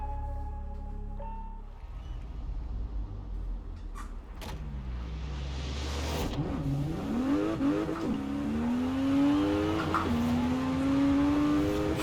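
A 900-horsepower 2019 Porsche Macan rally build in Forza Horizon 4, its engine revving up through the gears with rising whine and tire noise, loud and steady throughout, with no talking.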